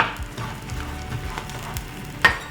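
A vegetable scramble with chopped tomatoes sizzles softly in a pan while being stirred, a low steady frying hiss with a brief scrape of the utensil near the end.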